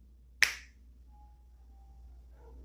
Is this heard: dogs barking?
no